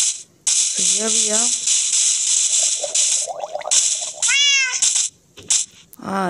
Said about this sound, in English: there's a cat also.